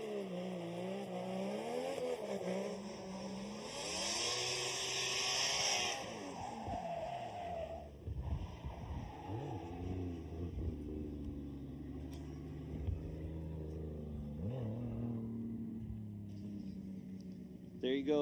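A drift car's engine wails and revs hard through a qualifying run at Suzuka Twin Circuit in Formula Drift Japan, pitch climbing and falling with bursts of tire noise, heard from a distance under steady commentary.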